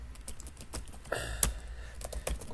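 Typing on a computer keyboard in a word-processing program, a brisk flurry of close, clattering key clicks with one sharper tap, no voices.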